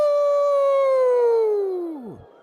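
A crowd lets out a long, loud collective howl in tribute to an Alaskan musician at a gala before the Iditarod sled dog race, the sustained wavering cry drooping in pitch and fading away after about two seconds.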